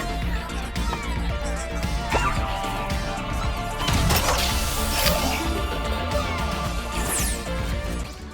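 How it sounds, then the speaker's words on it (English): A Gatling gun smashes glass in the SSD Speedway level of Astro's Playroom, with dense crashing and shattering over steady game music and whooshing effects, sustained and loud, faint talk in the mix. "use the Gatling gun to break the glass"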